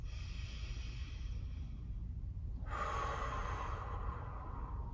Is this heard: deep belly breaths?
yes